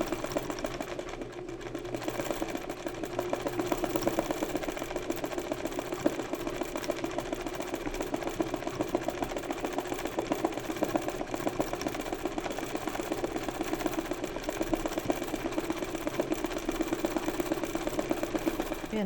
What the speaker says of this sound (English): the machine wasn't happy with doing this like random stitches, but with the darning foot it keeps the fabric down and then it works much better